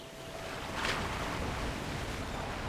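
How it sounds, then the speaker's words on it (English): Strong ocean waves surge and wash in a steady, broad roar, with a brief swelling crest near the start, no voices. "It's the waves. They're just too strong."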